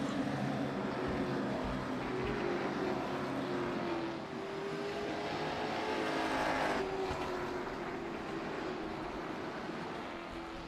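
Race cars at Thompson Speedway run bunched behind a virtual pace car, heard as a continuous broad engine roar and drone that holds steady throughout, with no talking.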